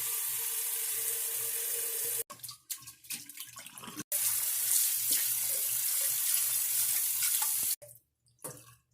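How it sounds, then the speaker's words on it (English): Running tap water splashes steadily over aquarium gravel and decorations from a Betta fish tank being rinsed, a continuous hiss broken by brief gaps and shifting splashes as items move under the stream. "First, I'm going to rinse all this stuff off, including the gravel."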